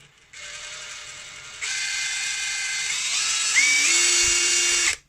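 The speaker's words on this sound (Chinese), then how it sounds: "我们现在呢装上电池试机，正转、" A Dongcheng cordless electric impact wrench, freshly repaired after grinding noise, sparks and a burning smell, runs with no load in a steady motor whine that steps up in speed twice and then shifts pitch, close and loud.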